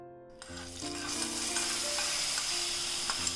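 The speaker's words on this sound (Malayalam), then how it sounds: "ഇനി നമുക്കിത് കറിയിലേക്ക് താളിച്ചു കൊടുക്കാം." A hot mustard seed and fenugreek tempering is poured into a mango pulissery curry. It lets out a sudden loud hiss that settles into steady crackling sizzle, heard up close with no talking.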